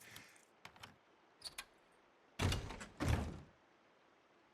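A locked door is tried in the Days Gone video game: faint handling clicks and rattles come first, then two louder thudding jolts as the door is pushed and refuses to open.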